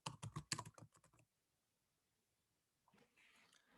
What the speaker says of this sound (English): So you type the person's name in and their profile will come up.